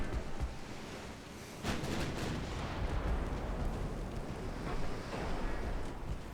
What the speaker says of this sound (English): I'm going to fire AP out of the secondaries